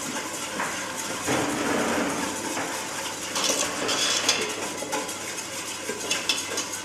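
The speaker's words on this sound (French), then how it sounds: "roux tiède dans mon lait bouillant. Et je mélange." Warm roux being stirred into boiling milk in a pot for béchamel sauce, a busy clatter of utensil scraping and tapping against the pan over a steady background hum, with brief metallic clinks.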